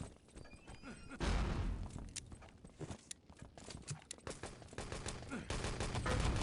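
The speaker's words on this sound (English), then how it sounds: "What a grenade" Rapid gunfire and a grenade blast ring out in a competitive 3v3 LAN multiplayer shooter match, dense bursts with sharp peaks, heard beneath an excited commentator's voice.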